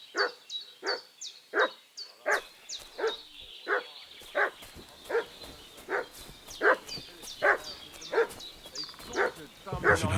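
A dog barking repeatedly in the medieval game world of Kingdom Come Deliverance II, a steady series of sharp, fairly close barks at roughly half-second intervals, with short yips mixed in.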